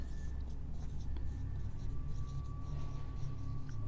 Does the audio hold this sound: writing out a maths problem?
yes